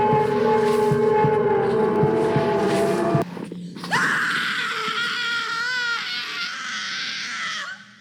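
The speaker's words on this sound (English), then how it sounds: "What kind of default-ass scream was that?" A stock scream from a Puppet Combo horror game, a loud, shrill wail rising over a droning, tonal background, sustained for several seconds before tapering off.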